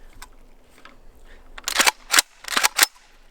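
A JTS M12AK-T1 AK-47 style shotgun fires several sharp, loud reports in quick succession outdoors, each crack ringing briefly after a quieter stretch of low background noise.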